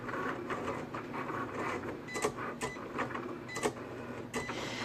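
A Cricut cutting machine runs with a steady mechanical whir, its carriage buzzing back and forth and giving several short motor bursts, up close and alone.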